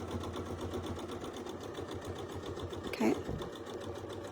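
A sewing machine stitching quilt circles runs in a faint steady whir at an even rhythm, with a brief short word spoken over it.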